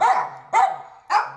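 Dogs barking at the Maple Ridge BC SPCA shelter on a quiet road: three loud, close, evenly spaced barks, each falling into a short ringing tail.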